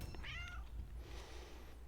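A pet cat meows at home, one drawn-out, fairly close mew followed by softer vocal sound, with steady low background hum.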